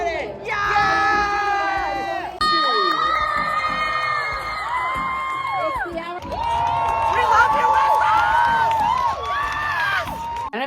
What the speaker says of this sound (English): I had so many friends in the audience that day that were very enthusiastic about my participation.